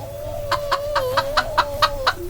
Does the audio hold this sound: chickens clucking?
yes